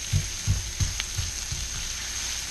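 Garlic shrimp fry in olive oil in a stainless steel pan with a steady bright sizzle, broken by several soft thumps as the pieces are moved or stirred.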